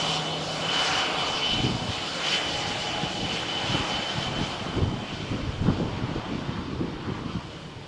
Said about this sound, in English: Here you can see a private jet, Falcon 2000, executive.